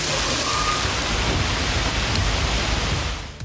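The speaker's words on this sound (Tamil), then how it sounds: "கனமழை கொட்டி தீர்த்தது" Heavy rain pours down in a steady, dense roar that fills the whole moment, then eases slightly at the very end, with no voices heard.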